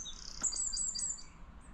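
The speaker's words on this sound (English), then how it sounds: "little birds singing there" Small birds sing by a lake, high thin chirps and trills repeating in quick bursts, faint and distant over a quiet outdoor background.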